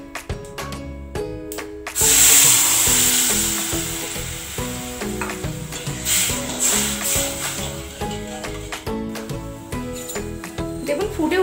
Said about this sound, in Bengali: এবার আমি তেঁতুলগুলো জলটা দিয়ে দেব